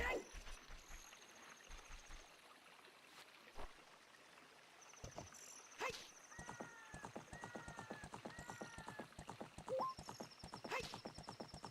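Epona, a horse in the video game Ocarina of Time, clip-clopping steadily at close range with a few short whinnies, joined by scattered game chimes and sound effects.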